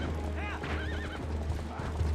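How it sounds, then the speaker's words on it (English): In Zelda: Twilight Princess, a horse gives a sharp whinny with rising and falling pitch over a low background hum, while hooves trample nearby. A voice talks faintly underneath. "I'm being trampled by a horse."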